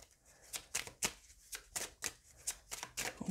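Tarot cards shuffled by hand in a quick run of about a dozen crisp riffling bursts, close and fairly quiet with no talking.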